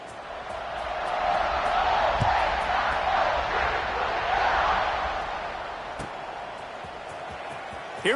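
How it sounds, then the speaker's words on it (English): A football stadium crowd roars steadily as the kickoff approaches, a broad sustained wall of cheering and noise that swells and holds with a few sharp bangs near the end. "you think this crowd's going to get loud when their defense comes on the field?"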